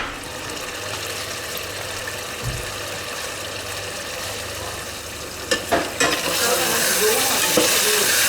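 Shahi cumin seeds are tipped over chicken pulao, setting off a steady, close sizzle broken by a few clinks and stirring scrapes near the end, with no voices.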